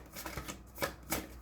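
A deck of playing cards is shuffled in three quick riffling bursts, close and fairly quiet, with no talking.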